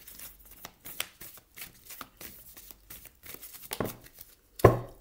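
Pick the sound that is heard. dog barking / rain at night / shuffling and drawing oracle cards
shuffling and drawing oracle cards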